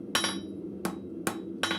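Hammer blows knock the corners off a square bolt at a blacksmith's forge, four sharp ringing metallic strikes at an irregular, unhurried pace over a low background hum.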